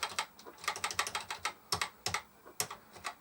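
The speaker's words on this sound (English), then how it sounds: "I'll get used to typing that, I'm sure" Typing on a BBC Model B computer keyboard, a rapid run of firm clacking keystrokes in uneven bursts with a few harder, louder key hits, close-miked and with no voices.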